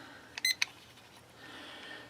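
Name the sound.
timer beeping as it is set for 3 minutes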